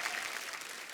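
A studio audience claps steadily for a singer on a comedy show. The applause is dense and sustained and fills the whole moment at moderate loudness.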